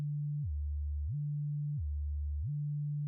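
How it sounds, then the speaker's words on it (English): A pure, sine-like tone on an Ableton Operator synthesizer glides smoothly back and forth between two pitches an octave apart, with each swoop leading to a held note, clean and steady with nothing else heard. "It's basically applying a glide up to the next pitch."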